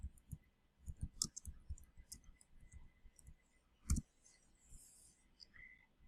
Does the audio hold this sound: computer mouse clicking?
yes